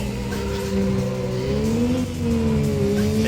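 Race car in the PlayStation game Need for Speed: Road Challenge, its engine droning loudly and steadily as it climbs through the revs and shifts gear, with tire squeal mixed in and no talking.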